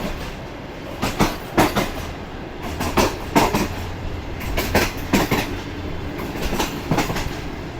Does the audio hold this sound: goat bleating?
no